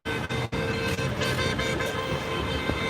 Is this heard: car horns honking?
yes